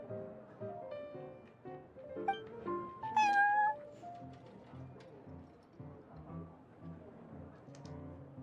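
Prince, a cat in the Genshin Impact video game, gives a couple of clear, close meows, with a game voice speaking and light game sounds around them.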